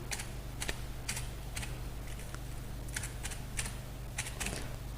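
Keys tapped on a computer keyboard while a name is typed, a quick irregular run of close, crisp clicks in bursts over a steady low hum.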